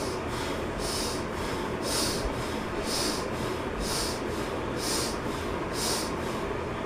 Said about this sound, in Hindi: इनहेल और एक्सहेल, इनहेल और एक्सहेल, इनहेल और एक्सहेल।